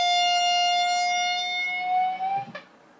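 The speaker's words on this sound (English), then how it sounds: "Then you get end with a slow whole step bend on the 15 on high E." Electric guitar playing a single sustained note on the high E string at the 15th fret, slowly bent up a whole step and held, ringing alone, then cut off with a brief muted scrape near the end.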